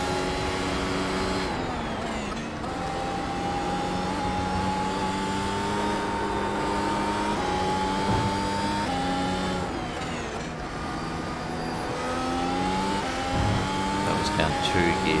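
Mercedes Formula 1 car engine in the iRacing simulator at Spa, a steady high-pitched whine holding throughout with gear shifts and pitch changes, a voice talking over it.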